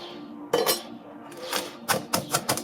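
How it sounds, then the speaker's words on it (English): Burnt ashes get mashed into salt in a bowl, a series of sharp scraping, grinding knocks in irregular bursts, close and alone. "you're going to mash it all up"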